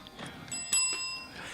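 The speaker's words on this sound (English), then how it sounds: "I have to use the bell." A hand bell rung several times in a quiet room, each strike leaving a bright metallic ring that sustains and overlaps, with no talking.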